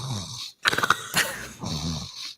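A person imitates a snore with a congested nose, giving close, loud, rough nasal snorts and rattling breaths in a couple of bursts.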